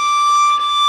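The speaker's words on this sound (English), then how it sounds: "Actually, it will sound like two octaves over the open string, in this case D." A violin natural harmonic on the D string, sounding two octaves above the open string, rings as one pure, steady, glassy tone sustained evenly for under a second.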